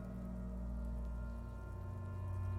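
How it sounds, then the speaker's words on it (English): Light drizzle falls steadily outside a shed, a soft continuous patter of rain with a low rumbling bed beneath it and no voices. "It's raining outside, light drizzle."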